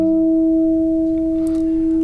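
A guitar natural harmonic, played with a finger resting lightly over the seventh fret, rings as a pure sustained bell-like tone, steady and loud for two seconds with a faint brief scrape near the end.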